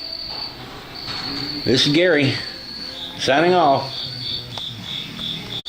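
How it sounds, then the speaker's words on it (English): Crickets chirp in a steady high pulsing drone throughout, continuing under a voice as he talks briefly in a quiet outdoor setting. "pardon the noise of this cricket's paradise I'm in"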